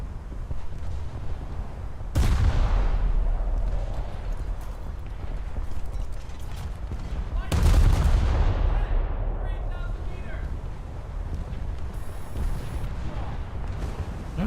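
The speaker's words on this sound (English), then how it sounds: "Keep firing. We're not done till they're sunk." Boat guns firing in the War Thunder naval game, with two heavy, loud booms several seconds apart, each trailing off into rumble over a constant background din.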